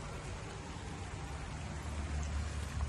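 Rain falls steadily in a winter backyard garden, making a dense, even hiss of drops on leaves and surfaces, close and continuous with no talking.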